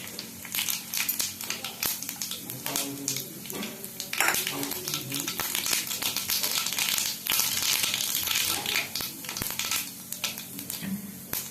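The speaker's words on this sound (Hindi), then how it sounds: "एथिरे पंच फुटण को फुटाइबा।" Panch phoron spices splutter and crackle in hot mustard oil in a kadai, a dense run of sharp pops and sizzling over several seconds, with some stirring noise.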